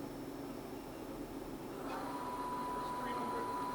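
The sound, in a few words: Southwestern Industries TRAK CNC bed mill spindle running in low gear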